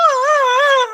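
A voice imitating keening, a mournful wail: a single sustained, wavering tonal cry, loud and close, that dips and rises in pitch before trailing off, heard alone.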